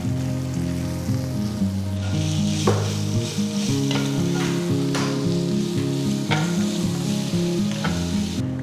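Grated raw mango sizzles and fries steadily in a pan with curry leaves and asafoetida, a continuous close crackle broken by a few sharp stirring scrapes, with no voices.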